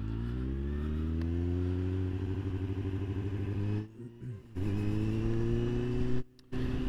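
A motorcycle pulls away from traffic lights, its engine revving up steadily close by, then briefly dropping out during gear changes before pulling on again.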